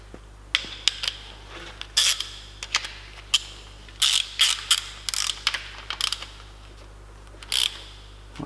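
Ratchet clicking while snugging the nut on a car timing belt tensioner pulley, a series of short sharp metallic bursts in uneven clusters, close up over a low steady hum, with no talking.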